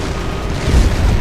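A missile strikes a ship in HAWX 2, a loud, close blast with a deep rolling boom that swells and sustains through its brief length.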